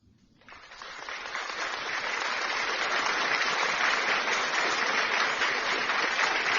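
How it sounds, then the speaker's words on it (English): An audience bursts into applause after a quiet start, the clapping swelling within a second and then holding as a loud, dense, sustained roar of many hands. "So let's give a round of applause"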